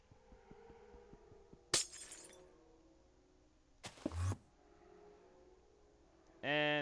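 A glass piece shatters in modded Minecraft during an alchemic chemistry build, with two sharp crashing bursts a couple of seconds apart over a quiet background, and a ringing tonal chime at the end.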